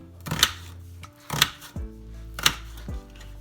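A knife chops through chicken on a cutting board for honey garlic chicken, giving four sharp, close cuts spaced about a second apart, each ending in a short thud, with no talking.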